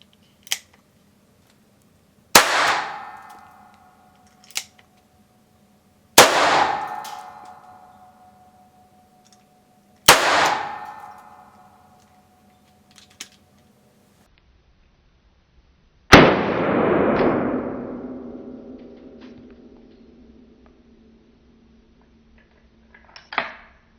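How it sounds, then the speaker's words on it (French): An Umarex Colt Detective Special revolver firing blank cartridges: four sharp, loud bangs spaced several seconds apart, each ringing briefly, with faint clicks of the mechanism between shots and no talking. "on va tester maintenant le tir directement de cette arme de défense non létale, avec une arme, avec une cartouche à blanc"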